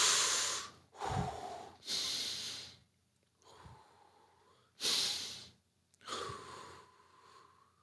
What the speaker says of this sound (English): Breathe through your nose and your diaphragm and all that other stuff